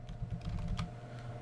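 Quick light keystrokes on a computer keyboard patter unevenly for a moment while a search is typed into SolidWorks, close and fairly soft with no voices.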